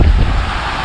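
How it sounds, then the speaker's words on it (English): Strong wind gusting near open water at about 50 miles an hour buffets the microphone with a loud, steady rushing roar, no voices. "These winds are not letting up."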